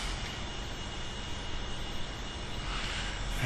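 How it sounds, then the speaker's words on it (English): A spaceship's main engines fire in a space flight game, a steady, loud roaring rumble that holds evenly throughout with no voices. "fire the main engines to bring this number down to 0"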